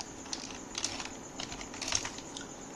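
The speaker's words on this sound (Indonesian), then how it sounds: "kita ketik begin" Keys clatter on a computer keyboard in quick, uneven bursts, close and fairly quiet, with a steady high hiss running underneath and no voices.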